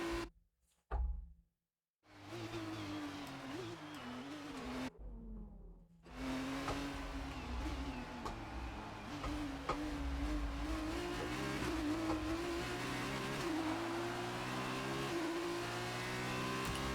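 An F2 2018 race car in the French GP, ART GP career mode, drones steadily after a couple of brief revs and cutouts, its engine note rising and falling as it accelerates and shifts, with no talk.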